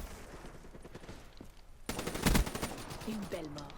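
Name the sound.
gunfire from Black Ops 3 video game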